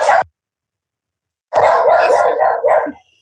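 A dog barks indoors: one short bark, a pause, then a quick burst of several loud, close barks and yips.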